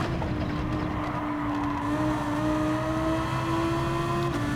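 A Lamborghini race car engine in Gran Turismo 7 holds a steady, high droning note under load, smooth and continuous with a slight pitch rise, loud and close with no talking.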